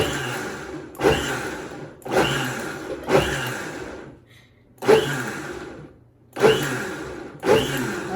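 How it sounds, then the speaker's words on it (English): Blender pulsing coconut pancake batter on medium speed, giving about six short whirring bursts of roughly a second each, close and fairly loud, with brief quiet gaps between them and no talking. "you're going to blend it with the pulse on medium speed"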